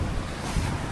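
Strong Southern Ocean wind blowing 25 to 30 knots roars across a racing sailboat as waves rush and surge, a steady loud broadband wash with one brief swell near the middle.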